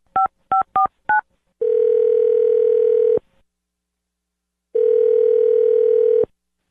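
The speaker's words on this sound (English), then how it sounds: "I'm going to dial her phone number right now" A landline phone plays four quick touch-tone dialing beeps, followed by two long, steady ringback tones separated by a pause of silence, close and clear with no voices.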